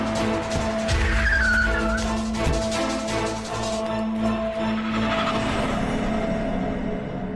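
A car makes a turn with its tires skidding and squealing on a road at night, the engine rumbling loudly throughout and the screech rising and fading over a few seconds.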